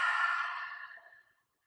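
A single long, soft exhale during slow yoga breathing, airy and close, fading away over about a second and a half into silence.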